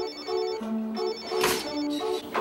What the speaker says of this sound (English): could that be Tombstone's phone?